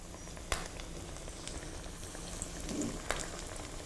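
Dill pickles deep fry in hot oil with a soft, steady sizzle and bubbling, broken by a few sharp pops and crackles, quiet and without talk.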